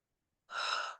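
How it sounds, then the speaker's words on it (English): A single deep cleansing breath, a long steady airy inhalation or exhalation lasting about half a second, close and clear in a quiet room with no talking. "take a couple of those deep cleansing breaths that we did before."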